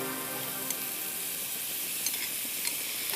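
Pineapple pieces sauté in a hot pan with a steady, even sizzle and a few faint stirring clicks, heard alone without any talk.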